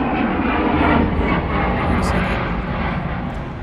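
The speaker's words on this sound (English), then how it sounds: "It's a little fighter jet." A small fighter jet roars overhead as a steady, loud broadband rumble that fills the whole stretch, with a voice talking faintly underneath.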